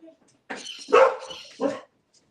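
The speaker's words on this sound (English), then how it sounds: "The two dogs are going wild." Dogs bark indoors in a few sharp, excited bursts at moderate distance, the barks overlapping with some yipping and mixed with nearby voices.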